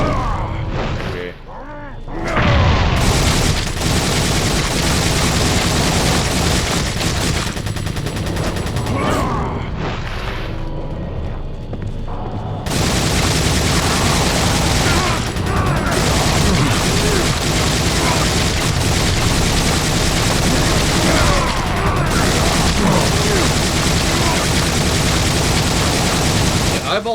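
Rapid bursts of gunfire from the video game Resident Evil 4, loud and dense, with repeated automatic-style shots and booms running through nearly the whole stretch, briefly thinning near the start and middle.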